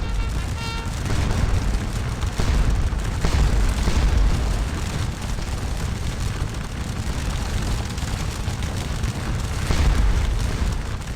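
Napoleonic infantry battalions opening fire near a church in the game Scourge of War: Waterloo, a dense continuous roar of massed musketry and rumbling battle noise, loud and sustained throughout.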